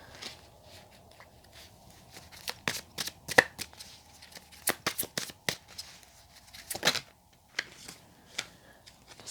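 Tarot cards shuffled by hand in a quiet room, a rapid series of crisp riffling snaps and soft slaps that come in uneven bursts, fairly faint and close.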